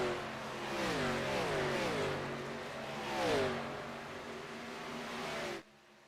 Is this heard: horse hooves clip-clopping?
no